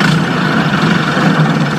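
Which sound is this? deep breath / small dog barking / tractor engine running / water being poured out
tractor engine running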